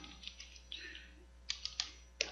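Quiet, sparse tapping on a computer keyboard: a few soft keystrokes early on, then several sharper, distinct clicks spaced apart near the end, close and alone with no talk.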